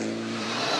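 Dylan Turner's rally car on a gravel stage of Rally Whangarei in the 2008 New Zealand Rally Championship, engine revving hard and loud up close in a brief burst of steady acceleration.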